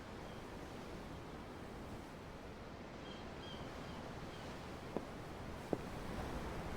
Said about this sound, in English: The ocean? Yeah. The waves.